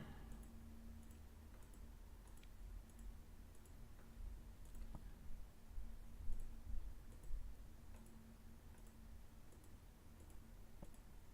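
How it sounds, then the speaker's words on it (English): Faint, regularly spaced mouse clicks while paging through pictures, each a soft tick under a steady background hum, with no talk. "just clicking through so that we can see all the pictures"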